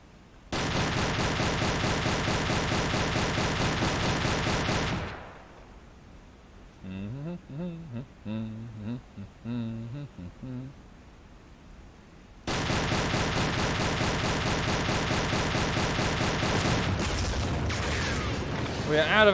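A submarine's deck gun in the video game Silent Hunter 3 fires at a ship in two long, loud stretches of rapid, dense reports, separated by a quieter gap in which people talk.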